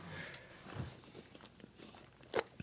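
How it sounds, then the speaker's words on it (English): A single crisp bite into a Reese's peanut butter Oreo chocolate bar, a short close crunch near the end after quiet room noise. "So I'm going to bite it in half."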